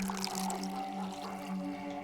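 Water pours in the video game Pathologic, a continuous liquid rush under a steady tonal hum that holds at an even level throughout.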